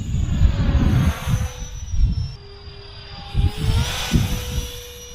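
A small electric motor on a converted AliExpress LIDL RC glider whines at full throttle, its pitch sliding as the plane flies past, against loud, gusty wind rumble.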